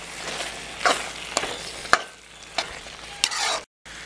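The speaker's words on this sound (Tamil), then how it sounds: "இன்னும் கொஞ்சம் கூடி வறுவல் மாதிரி ஆகட்டும்" Goat intestine fry sizzling in a pan in a village kitchen, with steady crackle under repeated scraping stirs of a spatula, close by, ending in a brief dropout.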